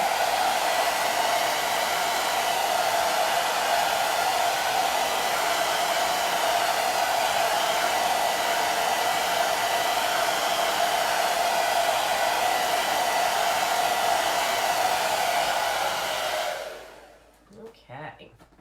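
A hair dryer blows steadily at close range while drying a chalk transfer on canvas, a loud continuous whoosh that cuts off near the end, followed by a few small handling sounds.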